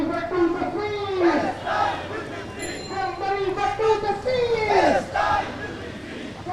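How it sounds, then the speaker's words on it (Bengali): A protest crowd at a Dhaka University march for Palestine chants slogans in unison. Rising and falling voiced calls repeat in a loud, continuous, rhythmic chorus close by. "তারা স্লোগান দিচ্ছে"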